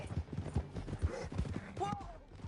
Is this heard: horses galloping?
yes